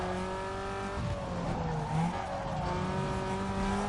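A car drifts in Need for Speed Underground 2 with tires squealing, alongside a steady, loud engine drone and pitch-shifting revs as the slide goes on, heard alone without talking.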